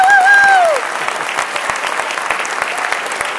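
Audience applauding after a sales talk, a dense steady wash of clapping from a crowd, with a brief voice over the start.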